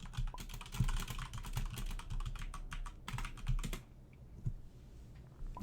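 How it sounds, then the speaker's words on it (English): Rapid typing on a computer keyboard, dense close clicks in quick bursts that stop abruptly near the end, then a few isolated taps over a quiet background. "I'm going to actually type that in there now"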